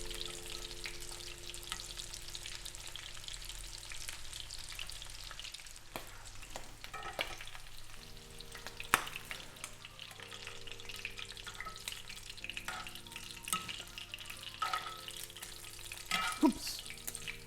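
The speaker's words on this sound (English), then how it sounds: "Cook the prawns on both sides until they're golden brown." Coconut prawns frying in a pan give a steady sizzle with occasional stirring clinks and scrapes throughout, fairly soft and close, with no voices.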